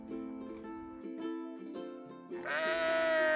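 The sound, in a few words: frightened sheep bleating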